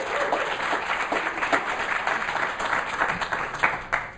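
Audience applause welcoming a speaker to a Secular Student Alliance conference session, dense steady clapping from a crowd sustained throughout with a few louder claps standing out near the end.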